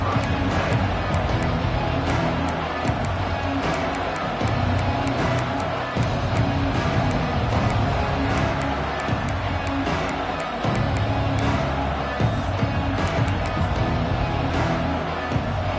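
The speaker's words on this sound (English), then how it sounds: "This crowd ready to make its presence known." A football stadium crowd at a college game roars in a dense, continuous wall of cheering and noise that holds steady at high volume throughout.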